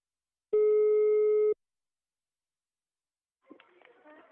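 A telephone line tone during a prank call: one steady electronic tone lasts about a second, followed by silence and then a faint, crackly voice on the line.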